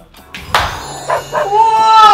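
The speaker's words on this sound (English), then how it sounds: "That's my dog, Lino." A pet dog gives a few close, high-pitched yips and whimpering barks, ending in a drawn-out whining howl, loud against a quiet room.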